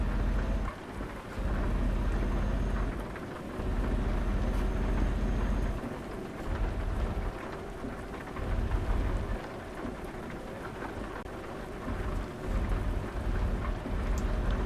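Steady rain drums on a truck in Euro Truck Simulator 2, with heavy low rumbles of thunder rolling through at intervals, loud and continuous without talk.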